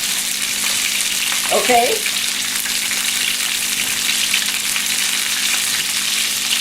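A top sirloin steak sizzles loudly and steadily in a pan while it is basted, a constant broad hiss. A voice briefly says a single word midway.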